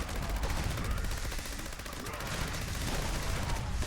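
Ammo Spender System weapon firing at super mutants in Fallout 76, a loud, unbroken stream of rapid automatic shots lasting the whole stretch.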